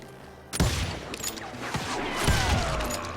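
Gunfire in the Call of Juarez Western video game: a burst of sharp, loud shots from about half a second in, with another cluster of close reports near the end over a busy, noisy background.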